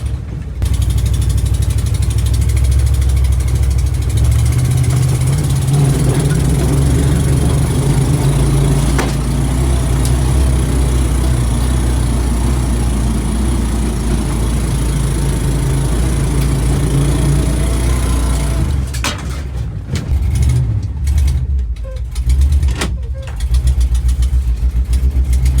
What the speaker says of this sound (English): You know what? I think I can hear a spark plug arcing.